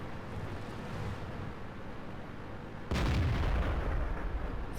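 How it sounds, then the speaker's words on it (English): Tank cannon fire in the World of Tanks video game: a single heavy boom lands midway and leaves a broad rumbling tail over an already dense battle background. "Oh, he's shooting at a T-69."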